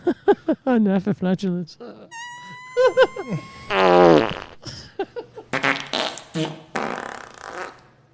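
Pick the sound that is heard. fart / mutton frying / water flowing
fart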